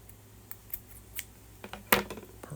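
Scissors snip a crocheted yarn tail close up, with several light blade clicks and one sharp cut near the end against soft handling noise.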